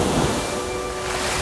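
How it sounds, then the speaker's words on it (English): Extremely strong ocean waves surge in to shore as a loud, continuous wash of broadband roar, with no pause or break across the moment. "lately there are these extremely strong waves that come"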